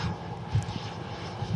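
An easyJet Airbus A320 jet taxis at Manchester Airport, heading out to runway 05 left, its steady engine whine and rumble holding even and fairly loud throughout.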